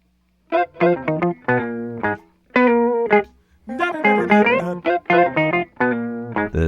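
Guitar run through an octave divider on a studio session recording, playing a loud, close series of short, punchy phrases with brief gaps, the notes thickened and doubled by the effect.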